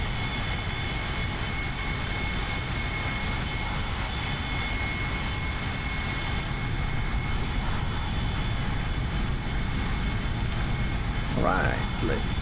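Airbus A321 jet engines hum in a steady, loud cabin drone from a seat close to the engines during an X-Plane 12 simulated flight from Porto to Lisbon, with an unbroken roar throughout and a brief faint tonal blip near the end.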